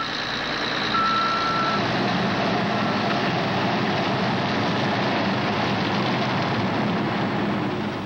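Huge mining haul trucks, each carrying 150 tons of rock from an open-pit copper mine, rumble loudly with a steady dense engine roar while a high reversing beep sounds near the start, no voices.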